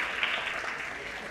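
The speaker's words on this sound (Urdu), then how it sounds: "اس پر تو زوردار تالیاں ہونا چاہیے" Applause from a conference audience at an Urdu education panel session, a steady broadband wash of clapping that holds at an even moderate level throughout, with no clear individual claps standing out.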